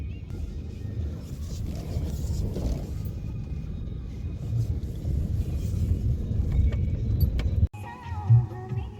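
A parked car starting off and driving home, a steady low engine and road rumble close by with faint rattling inside the cabin, cut briefly by a sharp knock near the end.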